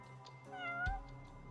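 A cat in the video game Judgment gives a single clear meow that rises and falls over about half a second. A low thump lands near its end, and soft game ambience continues underneath.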